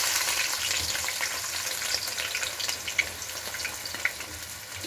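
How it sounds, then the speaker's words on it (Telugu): Onions dropped into hot oil fry with a steady, dense sizzle and crackle throughout, with a few sharper pops, while chicken dum biryani is being prepared; no one speaks. "వేడైన నూనెలోకి ఆనియన్స్ వేస్తున్నాం."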